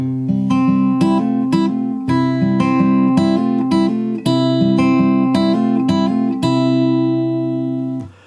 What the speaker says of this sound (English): My guitar is in standard tuning, and I've got a capo on fret number 5.